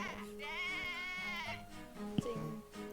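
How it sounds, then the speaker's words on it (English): A goat bleats in pain in the video game Professor Layton vs Phoenix Wright, one long wavering cry followed by shorter sounds, moderately loud with a faint knock in between. "The goat is just in pain."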